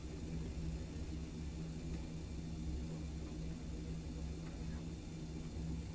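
Steady, droning jet engine noise from a Just Flight BAe 146 in Microsoft Flight Simulator 2020, running only the two inboard engines on an empty test flight, a constant low hum with a held tone and an even level throughout.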